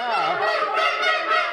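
A goose call blown by hand, loud and close, giving a continuous run of honking, wavering goose-like notes that carry through without pause.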